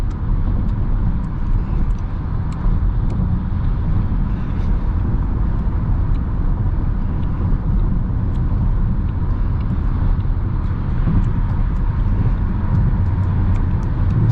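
A car cruising steadily on the road with engine speed held by the gas pedal, a loud continuous rumble of engine and road noise heard from inside, with no voices.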